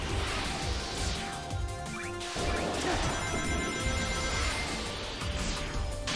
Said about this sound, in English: we're breaking lots of stained glass windows